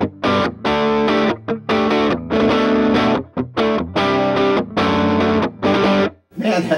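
Electric guitar through distortion on the neck pickup, playing bursts of thick, warm chords and riffs with short gaps between phrases, loud and close, with no talk over it.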